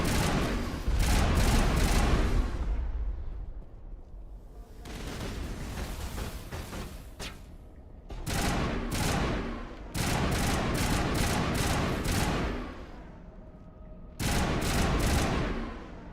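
Repeated bursts of gunfire in the video game Mass Effect Legendary Edition, loud volleys of rapid shots separated by brief lulls, with booming impacts and a lingering rumble between bursts.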